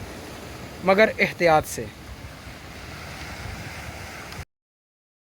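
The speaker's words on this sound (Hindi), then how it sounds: "घूम के लुत्फ़अंदोज़ हों इन हवाओं से, समुंदर की लहरों से, इस व्यू से" Steady wind and surf on the open coast at Discovery Bay, Hong Kong, a constant broadband rush close to the microphone, with someone speaking briefly over it before it cuts off.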